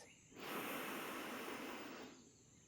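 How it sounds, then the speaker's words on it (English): One long, slow inhale through the nose during a guided relaxation, a soft airy rush building over about two seconds then fading, close and alone. "take a deep breath into that sense of gratitude, breathing in through the nose"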